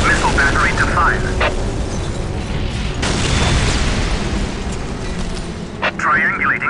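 A Whirlwind missile battery in Warhammer 40,000: Dawn of War fires, loud booms and cracking blasts spread across a noisy battlefield, with a voice speaking over the opening and closing moments.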